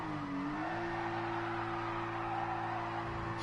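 Race car in the GT Sport video game shifting into second gear, its engine a steady droning whine that dips and settles at the change, ending with a brief rise in tire noise near the end.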